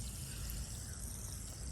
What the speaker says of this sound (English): And these are nano bubbles.